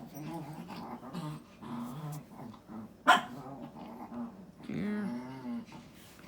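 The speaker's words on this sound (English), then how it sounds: "I have some dogs that are wanting to play." Several dogs growl and bark playfully in a room, with a sharp loud bark partway through and rough, grumbling growls around it; a person speaks a single word briefly.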